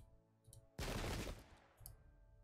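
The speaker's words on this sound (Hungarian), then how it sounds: "és kínáljuk őket még egy kis ágyúval is." One heavy cannon boom in the strategy video game Pike & Shot: Campaigns, a sudden loud blast that rolls off over about half a second against a quiet game background with faint music.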